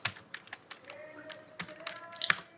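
A computer keyboard used for spreadsheet work, with a run of distinct key taps ending in a sharper press of the Enter key. Someone speaks faintly in the background.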